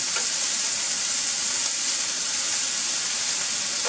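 Chicken pieces sizzle in a hot pan before canning, a loud, dense, continuous hiss of frying fat that holds steady throughout with no voices over it.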